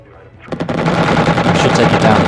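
Machine guns fire on an aircraft in Xenonauts, a loud rapid burst that starts after a brief quiet moment and runs without a break to the end.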